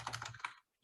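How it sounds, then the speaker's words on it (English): A computer keyboard clatters with quick, close keystrokes in a rapid burst of about half a second, then stops into silence. "You're typing, you're Google searching it."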